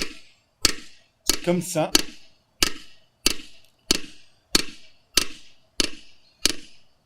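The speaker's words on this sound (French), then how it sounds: "Et on tape par petits coups réguliers" A hammer taps a scythe blade edge resting on a small peening anvil in the Pyrenees, sharp metallic strikes in a steady, evenly spaced rhythm of about nine blows, with a short spoken phrase between early hits.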